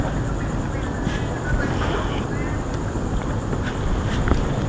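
Steady wind roars outdoors in a park, buffeting the microphone in a constant broadband rush with brief gusts and faint thumps throughout.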